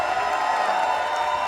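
A loud wrestling crowd at a Warrior Wrestling event roars in a steady, dense wash of cheering that holds evenly throughout.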